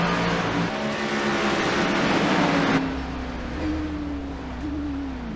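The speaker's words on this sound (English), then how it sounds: "Yep, that engine is struggling. It is not running anymore." A race car's engine at Dover, heard from the in-car audio, loses power partway through. Its steady drone drops and turns to a sputtering, fading hum with no talk.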